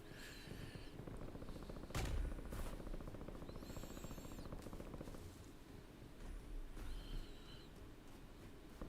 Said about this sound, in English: But I hear some shooting this way.